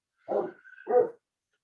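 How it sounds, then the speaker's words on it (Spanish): A small dog gives two short, close barks with a brief whiny whimper between them, then falls silent. "Si usted escucha un ladrido por ahí, no puedo evitarlo porque es un perrito chico que tengo"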